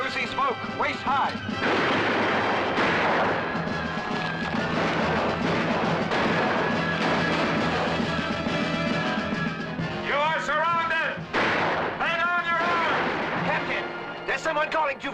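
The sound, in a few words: soldiers firing guns in the woods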